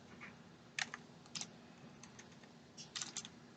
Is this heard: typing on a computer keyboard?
yes